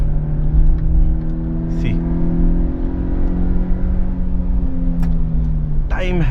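A Maruti Suzuki Jimny or Mahindra Thar SUV engine pulls steadily in second gear from the driver's seat, a loud, even drone rising slowly in pitch, with someone talking over it.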